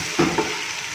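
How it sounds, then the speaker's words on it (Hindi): Chicken biryani ingredients are stirred in a pan, a spoon scraping twice briefly over a steady sizzling hiss with no voices. "इसे मैं अच्छे से मिक्स कर लूँगी।"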